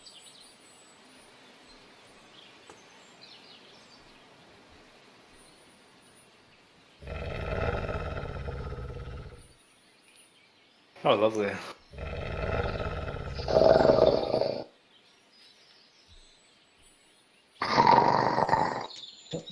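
During a game session, a player's voice imitates a wolf's growl in several rough, close bursts of a few seconds each. The bursts are separated by near silence, and brief talk comes between them.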